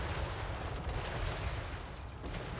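Dense, continuous cannon barrages rumble through a Total War Warhammer 3 battle, merging into a loud, steady wall of overlapping booms and blasts with no clear gaps.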